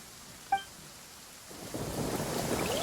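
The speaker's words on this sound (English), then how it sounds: "Uh-oh! Lightning storm!" Thunderstorm in the video game Genshin Impact: a brief sharp tonal chime, then a swelling wash of rain and rumbling thunder building steadily and loudly.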